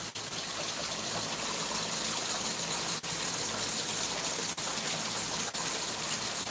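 Water pours steadily into a newly built garden pond, a continuous close gushing and splashing stream with no pauses and no voices.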